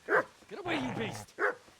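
A dog in the video game Kingdom Come: Deliverance gives two loud, separate barks, with a whining, voice-like sound in the gap between them.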